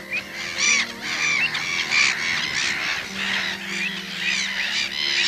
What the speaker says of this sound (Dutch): Daar zitten nou de vogels.